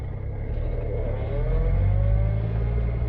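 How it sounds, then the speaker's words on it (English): A post-war Rover 75 P3 pulls away in first gear, its engine rising steadily with a sustained gear whine running under the revs, close and fairly loud throughout. "Beautiful first gear whine"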